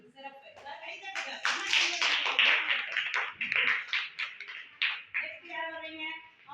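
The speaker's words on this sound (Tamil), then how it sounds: "கை தட்டுங்க." Children in a classroom clap together after a pupil answers correctly in a fourth-grade Tamil lesson, a dense burst of many small hands lasting several seconds, with a teacher's voice and chatter mixed in.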